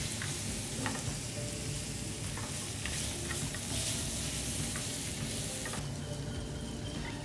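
Steak sizzles loudly in a hot pan in a restaurant kitchen, a dense continuous crackle and spatter with occasional louder pops, close and steady throughout.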